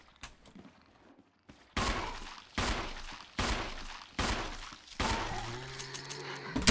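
Bursts of gunfire from the Resident Evil video game, five loud sharp blasts at a steady rhythm with brief decaying tails, following a quiet moment.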